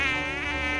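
Loud, steady insect buzzing like a housefly or mosquito, played as a short close-up sound effect on a radio show, continuous and alone without talk.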